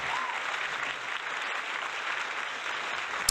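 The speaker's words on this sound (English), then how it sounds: "Let me turn down the applause" Steady crowd applause plays continuously and fairly loud over American football practice film, with a faint voice underneath.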